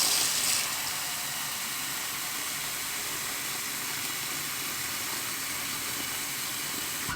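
Water runs steadily over a tray of germinating seeds being rinsed, a faint even hiss with a slightly louder splash at the start.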